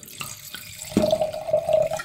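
Grüner Veltliner white wine pours from a screw-cap bottle into a glass, starting with a short splash and continuing as a steady, close liquid trickle that rises slightly in pitch as the glass fills.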